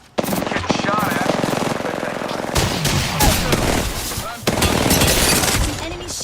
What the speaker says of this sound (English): Getting shot at.